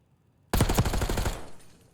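Rapid burst of gunfire in a Call of Duty search and destroy esports match, a dense loud volley of repeated shots lasting under a second, then quick fading to quiet.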